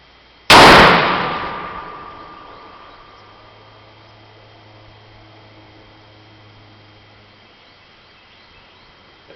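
A single loud gunshot cracks at an outdoor shooting range in Valdosta, Georgia, its sharp blast decaying into a long ringing tail and faint hum.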